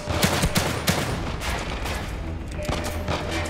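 Guns fire in The Evil Within 2 in a rapid volley of sharp shots, with dense blasts early that settle into a steady, crackling barrage throughout.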